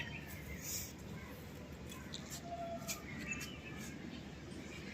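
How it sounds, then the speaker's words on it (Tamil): Pigeons in Chennai, with faint, scattered bird calls and chirps over a constant bed of ambient outdoor noise. "இப்போ இது புறா"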